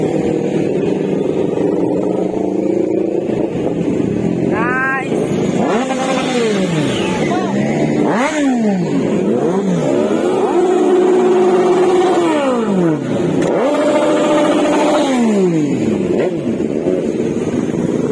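Big bikes revving near a river crossing, their engine notes climbing and falling in repeated sweeping pitch bends, loud and continuous, with a sustained high rev in the middle and voices faint underneath.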